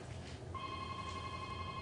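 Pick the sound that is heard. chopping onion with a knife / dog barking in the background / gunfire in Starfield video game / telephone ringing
telephone ringing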